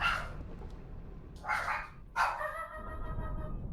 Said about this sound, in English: My dogs are going crazy because there's a child screaming outside.